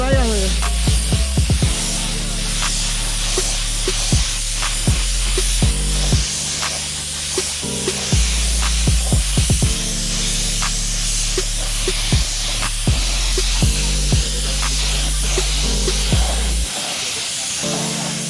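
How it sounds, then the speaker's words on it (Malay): Spray gun hissing pearl yellow paint onto the body panels of a Honda C70 motorcycle during restoration, loud close bursts of steady spraying broken by brief pauses, repeated across the whole stretch. "So sekarang ni masuk part untuk kita sembur body."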